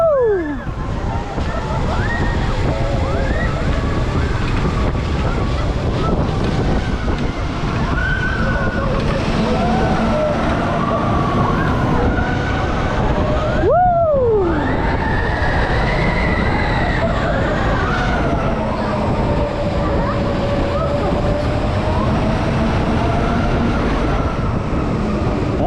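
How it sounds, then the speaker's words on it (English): Family roller coaster Alpen Express at Europa Park running a two-lap ride: a steady, loud rumble of the train on track with rushing wind throughout, riders' voices and cheers heard over it. "nice relaxing ride there, couple of laps round on Alpen Express. Lovely, really nice family coaster"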